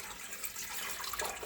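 Warm water pours steadily for sandwich bread dough, a faint continuous splashing trickle lasting just over a second in a quiet kitchen.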